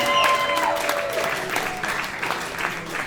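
An audience at a comedy night in Tumbleroot Brewery applauds comedian Caleb Mulkey, a steady roomful of clapping with a few cheers and a host's voice partly heard over it.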